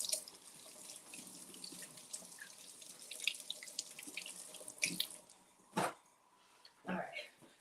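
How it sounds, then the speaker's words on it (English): Hot tap water runs from a faucet into a container of hash browns at a sink, a steady splashing stream with a few clunks, while people talk faintly in the background. "we just filled this up with hot water"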